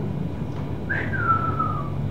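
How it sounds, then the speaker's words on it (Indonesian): A single person whistles one sliding note that starts sharp and drifts gently downward, clear and fairly close above a steady low background hum. "Kalau misalnya siul"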